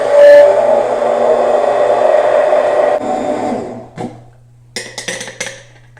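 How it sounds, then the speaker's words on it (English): Blender whirring through coffee with MCT oil and collagen, a loud steady high-pitched whine for about three seconds, then winding down and stopping, followed by a few light clatters. "So now we're going to blend this for 20 seconds."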